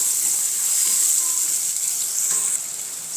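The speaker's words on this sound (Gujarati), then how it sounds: "ઝીણા ઝીણા સમારેલા ટમેટાં છે તે ઉમેરી દઈશું. સરસ રીતે આપણે સાંતળી લઈશું" Chopped tomatoes sizzle steadily in a hot pan for a village-style Gujarati dish, a continuous bright frying hiss with faint stirring, no one talking.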